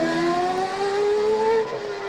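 Race cars scream past during 2002 CART qualifying on the Toronto street circuit, their high engine whine holding steady and then dropping in pitch as one car goes by up close.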